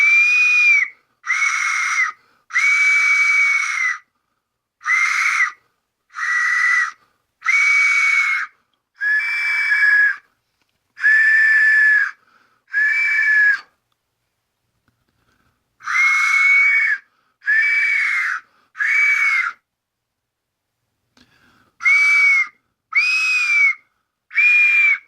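A Murder of Crows death whistle blown in a series of short, loud, shrill screeching blasts, each lasting about a second, in irregular groups separated by pauses of silence.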